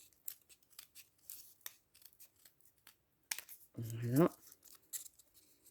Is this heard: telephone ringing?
no